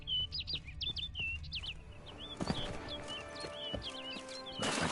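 Repeated bright chirping bird calls in the Witcher 3 game world, clear and fairly near, over a low ambient bed with occasional hoof-like thuds and clatter.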